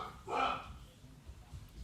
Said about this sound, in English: Dogs are going crazy because the mail guy is here.